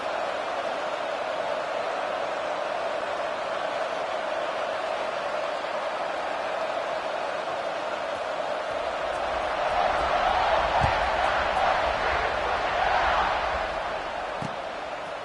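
A large football stadium crowd just before kickoff forms a steady, dense roar that swells louder toward the end, with a commentator's voice over it.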